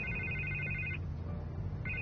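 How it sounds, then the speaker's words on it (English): A telephone rings in Telltale's Batman game, an electronic ringtone burst lasting about a second, a pause, then the ring starting again, clear and alone with no talk. "I can't get the phone to stop ringing."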